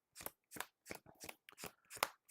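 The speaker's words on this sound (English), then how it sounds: "I'll do a little more shuffling" A deck of KeyForge cards is riffled and shuffled in about seven crisp, evenly spaced bursts, close and clear on a quiet table.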